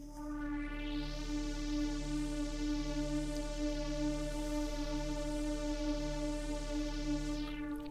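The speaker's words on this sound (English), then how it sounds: "these are all coming from the Jup-8000 V from the Arturia collection" Four layered Jup-8000 V synth presets from the Arturia collection hold one sustained D note, a dense buzzing pad with a deep bass drone and slow sweeping filter movement, steady and unbroken throughout, no voices.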